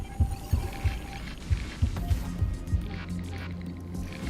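A heartbeat sound effect from the game Honkai: Star Rail, a run of low, regular thumps in the first half that fade into a soft hum and ambient tones.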